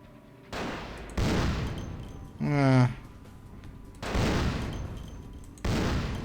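Gunshots from the vampire role-playing game Vampire the Masquerade: Bloodlines go off as several heavy, booming blasts spaced about a second or more apart, with a brief rising tonal sound among them.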